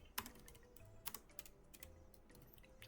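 Keys clack on a computer keyboard as a database query is typed: a quiet, uneven run of light taps with short pauses between keystrokes, close and alone.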